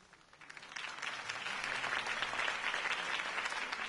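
Sustained crowd applause follows a campaign speech for Harvey Dent, rising quickly from scattered claps into a dense, steady roar of clapping hands that holds for several seconds.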